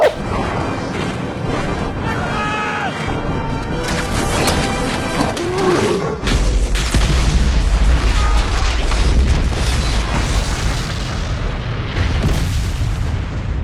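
A loud, dense blast effect plays as the Deeping Wall blows up in a Helms Deep Warhammer tabletop battle, a sustained roar with a deep rumbling low end swelling partway through.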